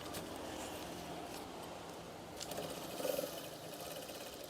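Sewing machine stitching a curtain hem, a faint continuous mechanical whir with a slightly louder burst near the end, heard quietly without talk.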